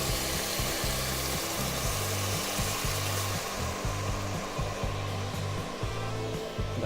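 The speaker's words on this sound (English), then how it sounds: "now it's time to add our white wine" About a cup of white wine sizzles in a blazing hot Dutch oven, a loud, continuous close hiss over a low pulsing rumble.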